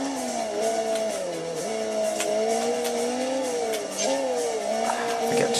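Motorbike ridden in the Sega Dreamcast game Headhunter, a steady droning engine whose pitch rises and dips with throttle, with tire squeal and skidding noise over a continuous, fairly loud mix.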